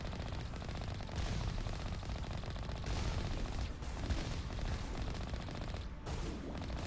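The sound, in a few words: Geth enemies shooting gunfire in video game Mass Effect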